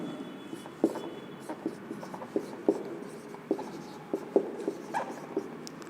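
Chalk or marker strokes on a classroom board during a chemistry lecture, a steady run of short scratchy taps and scrapes at moderate distance, with no talking over them.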